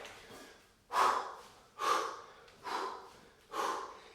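Four heavy, forceful exhales come at an even pace, roughly one per second, each a breathy burst that fades before the next, as a person performs kettlebell swings nearby.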